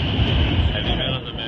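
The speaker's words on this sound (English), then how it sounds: "Subway." A subway train rumbles steadily and loudly close by, a dense continuous roar with a high whine running through it, heard in New York City.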